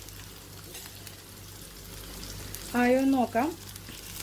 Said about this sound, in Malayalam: മൂടി വയ്ക്കാതെയാണ് ഞാനിവിടെ ഫ്രൈ ചെയ്യുന്നത്.